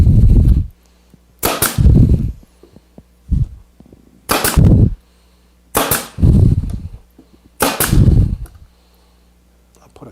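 A brad nailer fires 18 gauge 1.25 inch brads into wood, giving six loud, sharp pneumatic shots at uneven intervals of one to two seconds, each with a short thump and hiss.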